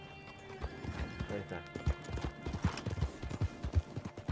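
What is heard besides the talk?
horse in video game Red Dead Redemption 2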